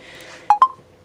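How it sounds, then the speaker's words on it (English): Two quick beeps from a phone as its charger is unplugged, close and fairly loud, a short tonal ding pair with no talking. "this thing's gonna ding ding again every time I unplug it"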